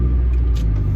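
Steady, loud low rumble of a Solara car cruising on a highway as traffic eases and speeds rise, a continuous engine and road drone from inside the cabin.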